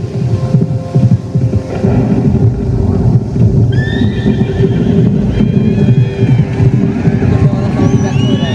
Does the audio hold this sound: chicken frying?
no